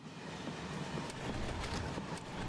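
A train rolls along in Final Fantasy VII Remake with a constant, broad rumble and some faint metallic clatter. The sound stays steady throughout and no one speaks.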